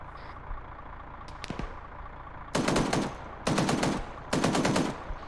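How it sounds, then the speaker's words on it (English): Three sharp bursts of machine-gun fire ring out in a military video game set in a dusty operation, each rapid volley lasting about half a second, loud and close, separated by short pauses. "fire off a burst to the right-hand side of that tank"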